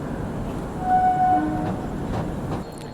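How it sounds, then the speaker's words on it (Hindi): The Tulsi Express rumbles steadily at Prayagraj Junction railway station, a dense continuous roar of train noise with a faint tonal horn-like note rising briefly over it. "और ये तुलसी एक्सप्रेस है"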